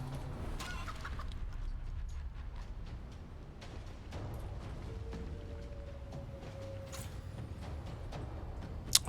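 A chicken in the video game Divinity Original Sin II clucks softly in short, scattered calls over a low game ambience, with a brief sharp click near the end.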